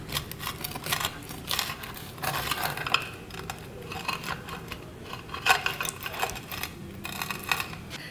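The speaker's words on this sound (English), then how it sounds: "Listen to that crust." Knife sawing through the crust of a homemade Asiago cheese loaf, a run of crackly, crunchy rasps in uneven strokes, close and fairly quiet with no talking.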